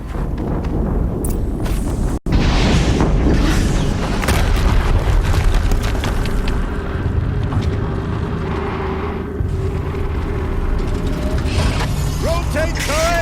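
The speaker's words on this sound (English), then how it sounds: "Another explosion." Explosions in the action video game Horizon Zero Dawn: a dense, loud, continuous rumble of booms and mechanical clatter. The sound briefly cuts out near the start, then resumes at full strength.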